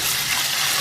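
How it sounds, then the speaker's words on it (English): Bok choy leaves are rinsed in reused potato water, a steady, close splashing wash of running liquid with no voices. "I'll give them a final rinse. I'm going to reuse the water slightly."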